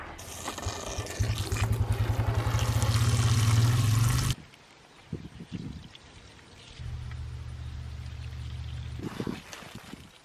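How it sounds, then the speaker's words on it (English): A gallon of water mixed with fertilizer pours onto tomato plants in a garden, a loud steady splashing stream that stops abruptly, then a second quieter pour after a short gap. "you add a gallon of water and then you pour it in your tomatoes"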